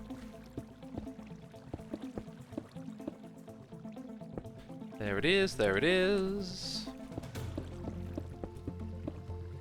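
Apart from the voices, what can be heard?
water sounds in video game Minecraft modpack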